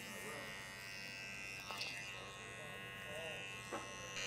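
Electric shaver shaper buzzing steadily through a textured-hair haircut in a barber training class, a continuous close drone with faint background voices and a few soft clicks.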